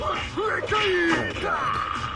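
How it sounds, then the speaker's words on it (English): A video game character in Killer Frequency lets out a loud, drawn-out scream, wavering and sliding in pitch across about two seconds, close and alone. "Just think of a scream and let it rip!"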